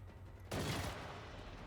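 Gunfire from the video game Generation Zero: a sudden loud burst of rapid shots lasting under half a second, cutting off into lingering reverberant noise.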